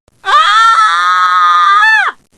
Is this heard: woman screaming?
yes